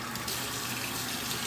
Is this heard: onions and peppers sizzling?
no